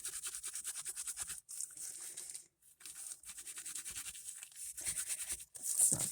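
Rapid rhythmic brushing and rubbing strokes on a brass Raphael Alfandary pendant, bright scratchy bursts repeated in quick runs with a few short pauses, close and fairly quiet.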